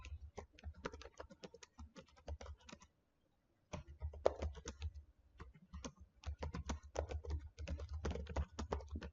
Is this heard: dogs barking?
no